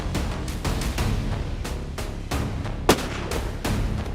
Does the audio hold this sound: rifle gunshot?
yes